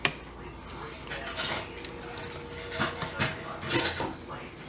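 A spoon scrapes and clinks against a pot as Swiss cheese is stirred into a low carb Reuben soup of corned beef, cabbage and onion, sounding as soft scattered knocks with a voice talking quietly underneath.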